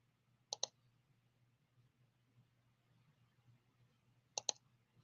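Computer keyboard arrow keys click in two quick pairs separated by a few seconds of quiet, crisp and close over a low steady hum.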